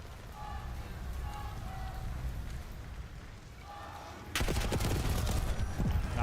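Gunfire from a Call of Duty League Champs 2025 match: a dense burst of rapid shots breaks in loud and close partway through, following quieter game ambience.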